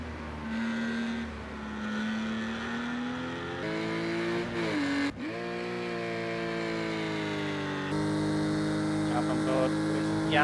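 Porsche Cayman Cup race car heard onboard during a lap of Autódromo Internacional do Algarve, its engine revving loudly and rising through gears, with abrupt shifts and pitch swoops as it brakes and accelerates.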